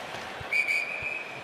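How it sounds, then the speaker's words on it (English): A referee's shrill whistle cuts through the arena at an NHL game between the Seattle Kraken and Dallas Stars, two short blasts then a longer one, loud and piercing over the crowd's murmur. "Whistle down,"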